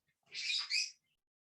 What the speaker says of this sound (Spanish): Y perdón por mis pericos hoy que están...